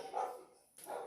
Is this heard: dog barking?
yes